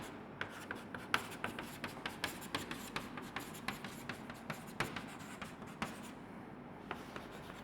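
Chalk tapping and scraping on a classroom board as a chemical formula is written, a steady series of quiet, close, sharp taps and strokes with no talking.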